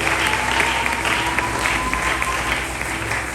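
Steady applause from an audience filling a church hall during a prophetic service, dense and continuous clapping for several seconds with a faint voice underneath.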